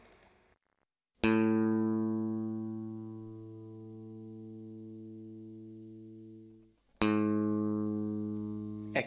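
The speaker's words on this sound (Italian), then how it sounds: "la prima è la corda accordata correttamente, la seconda è invece la stessa corda ma eh, forse scordata" Two plucked notes on a guitar A string ring out one after the other, each with a long fading sustain: first in tune, then the same string detuned, slightly lower in pitch. No voices.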